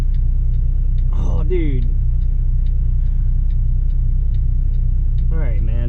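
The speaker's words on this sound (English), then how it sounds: "there's like a freaking traffic jam here" A truck idles in small-town Iowa traffic with a steady low engine rumble and road drone close by, while someone briefly talks over it.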